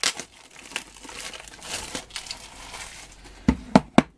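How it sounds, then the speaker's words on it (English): Plastic packaging crinkles and crackles as a picture frame is unwrapped for a craft project, with irregular rustling bursts and a few sharp crackles at the end, close and alone. "take the frame out of its packaging"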